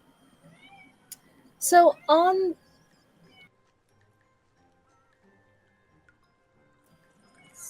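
A cat meows twice in close succession, two clear rising-falling cries near the microphone in an otherwise quiet room, with a brief word spoken just before.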